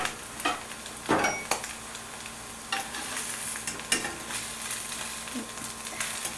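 Salmon burger patties sizzle steadily in a hot pan, with a few clinks and scrapes of a utensil stirring or turning them, heard up close and with no voices.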